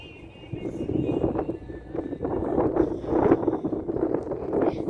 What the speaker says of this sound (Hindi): आज भी बहुत तेज हवा चल रही थी।